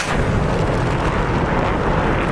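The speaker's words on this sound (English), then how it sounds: "Bang, bang, bang. Go the missiles." Missile blasts in a naval combat simulation of anti-ship missiles striking a carrier group, a loud, dense, continuous roar of overlapping explosions with no gaps.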